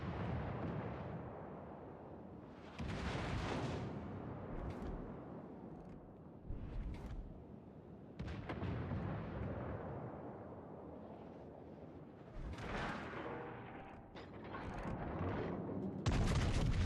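Naval battle in a video game: repeated heavy booms of ship cannon fire and explosions, with several loud blasts and rumbling aftermath layered over continuous combat din.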